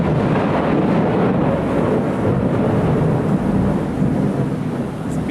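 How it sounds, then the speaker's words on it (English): A big thunderstorm: a steady, loud, deep rumble of thunder with rain and wind noise that stays continuous for the whole stretch, and no voices. "it's big thunderstorm."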